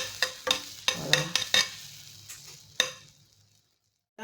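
Shea butter infused with turmeric being stirred in a container, a series of distinct scraping and tapping strokes at an uneven pace that thin out and stop into near silence.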